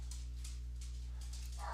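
Several dogs bark and yip excitedly indoors, in short bursts scattered across a couple of seconds over a steady low electrical hum, with a louder burst at the end.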